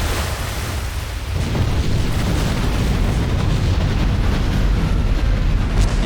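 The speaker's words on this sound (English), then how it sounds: "You just have to love tankers in this game. When they blow up, they really go like a firecracker." Tanker ship exploding in Silent Hunter 3, a massive sustained roaring blast that swells suddenly after a quieter rumble and keeps thundering loudly throughout.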